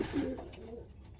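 A racing pigeon cockbird coos softly at close range, with a low, rounded burst near the start fading into quieter murmurs and faint background rustle.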